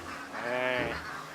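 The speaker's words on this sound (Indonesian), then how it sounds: "Tumben itu bebek jam segini berisik." Ducks in a duck pen quack noisily, a dense overlapping burst of nasal honking calls close by and fairly loud.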